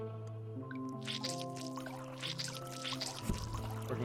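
In a Bermuda survival video game, a workshop recipe converts fruit into water with a liquid effect of drips and pouring over sustained tonal game music, fairly quiet and steady throughout.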